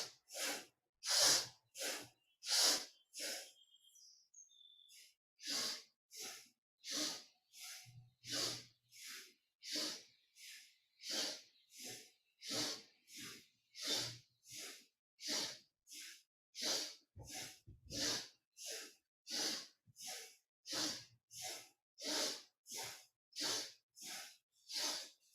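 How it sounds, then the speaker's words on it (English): Intense rhythmic breathing during kundalini yoga practice, a long run of quick forceful nasal breaths in steady succession, close and hissy, with a brief pause near the start before the pattern resumes. "You're breathing somewhat intensely."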